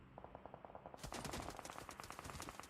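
Rapid automatic gunfire in a PUBG Mobile esports match, a steady stream of close, sharp shots that thickens into a dense, louder burst partway through, with no talk over it.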